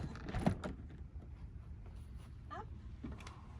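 Door of a Hymer Exsis camper van opens with a close, quiet clunk of the latch followed by faint sliding and rattling; a few light knocks follow, with no talking.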